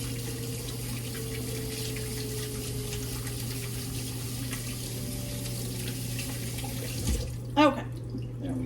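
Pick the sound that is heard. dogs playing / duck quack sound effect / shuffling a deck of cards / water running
water running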